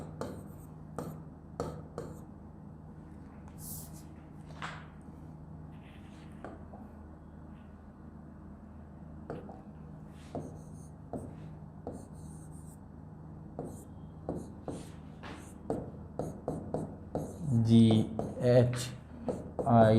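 A teacher writes the alphabet backwards with chalk or a marker on a board, producing a steady run of short scratchy strokes and taps under continuous talking in a classroom-like room.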